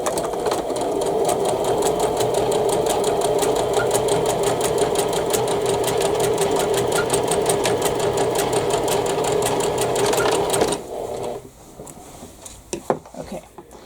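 A sewing machine stitches quilt block seams for a Cathedral Window quilt with a rapid, steady mechanical clatter for about ten seconds, then stops, leaving a few faint handling clicks.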